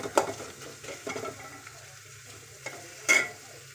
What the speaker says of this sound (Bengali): এই যে দেখেন পরের মধ্যে তেল দিয়ে ফেলছি, আমি পেঁয়াজও দিয়ে ফেলছি।